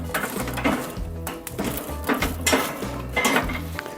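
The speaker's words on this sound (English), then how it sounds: "take out these grill grates, take out these deflector plates, and with a little poke we're going to center the coals" Metal grill grates and deflector plates being lifted out of a charcoal grill, a close series of clanking, scraping metallic knocks in uneven bursts, heard alone without talk.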